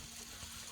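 Water running into a newly built backyard pool, a soft continuous hiss and trickle, faint and steady for under a second with no other sounds.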